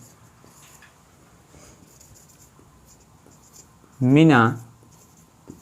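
Chalk or marker scratches and taps across a classroom board in short irregular strokes, fairly faint, and a brief loud burst of speech cuts in near the end.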